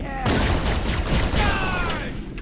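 Rapid assault rifle fire in the Halo SPV3 mod, mission Boarding Action, crackles continuously and loudly for a couple of seconds amid game combat noise, with speech faintly mixed in.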